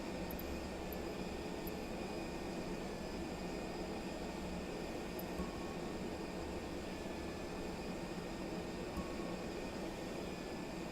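An Airbus A320 taxiing in a flight simulator, heard as a steady, even jet engine whine and broadband hum that holds constant throughout with no voices.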